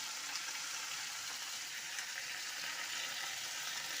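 Grated squash frying in a pan for a Bengali squash ghonto, a steady soft sizzle and crackle that holds evenly throughout with no voices.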